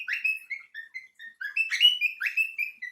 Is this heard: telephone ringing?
no